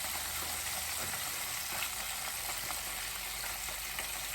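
Dried herbs fry in oil in a pan, giving a steady, close crackling sizzle with fine popping throughout, no voices over it.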